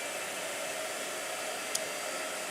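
Blow dryer running steadily at an even pitch, a faint continuous whoosh that stays constant throughout with one tiny click, no voices.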